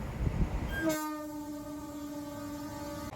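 Train horn sounding at Jaleswar station as an Indian Railways MEMU special departs: a loud, sustained two-tone blast of about two seconds over steady rail rumble.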